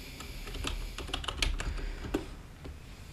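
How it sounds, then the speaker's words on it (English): Fingers type a search query on a computer keyboard, with irregular clicky keystrokes in short bursts and a few sharper, louder taps, close up with no talking. "So we will type that into Amazon and see what comes up."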